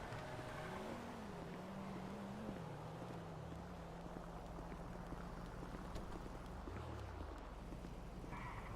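A small, run-down car's engine drones steadily with broad road and wind rush, its pitch wavering and dipping early on before settling into a continuous close hum, with no voices over it.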